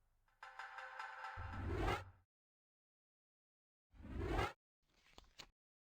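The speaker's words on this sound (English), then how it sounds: "Donna's text notification is the secret sound." A short synthetic phone text-message alert chimes during a Tomb Raider I Remastered session: a bright rising tone sequence, then after a pause a second burst and a fainter trailing blip, all fairly quiet with no talk.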